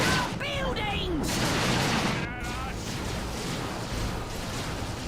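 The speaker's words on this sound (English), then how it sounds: "They shoot up buildings." Bursts of gunfire in the Dawn of War 2 strategy game, as troops shoot up buildings, form a dense, continuous clatter of shots and blasts with a voice talking over the top.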